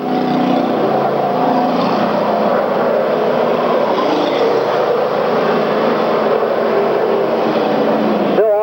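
Race cars roar down the front stretch of an oval track during a 1994 endurance and wreck event, a loud, dense, continuous engine roar that holds steady throughout before cutting off abruptly.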